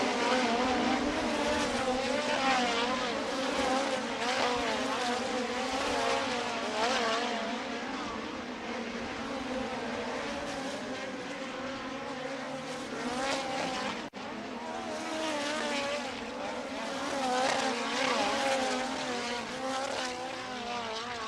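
USAC midget race cars run hot laps around the dirt oval at Kokomo Speedway, a sustained high engine roar that swells and fades as the cars circle, heard from a distance with no talking.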